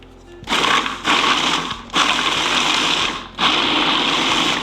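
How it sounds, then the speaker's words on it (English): A food processor pulses walnuts and vanilla wafers to a fine chop in four loud, close whirring bursts separated by brief pauses, with no talk. "I'm going to add in the walnuts and just do these to a fine chop"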